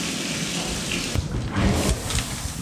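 Shower water running steadily while warming up, a continuous broadband hiss of spray with a few louder splashing surges partway through, close and alone with no talking.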